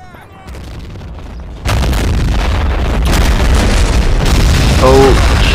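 Tank cannon fire and shell hits in a video game battle at Küstrin, with a sudden loud blast followed by sustained rumbling explosions and crackling impacts, close and heavy.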